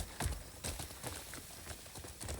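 A horse's hooves clip-clop on the ground in the video game Crimson Desert, a quick irregular series of soft thuds at moderate distance, with no voices.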